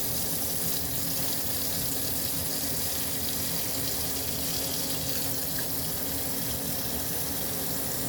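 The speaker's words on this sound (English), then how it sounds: "I'm just putting water in this bowl with the ice." Water runs steadily into a bowl holding ice, a continuous close splashing and rushing flow like a tap filling a sink, with no talking.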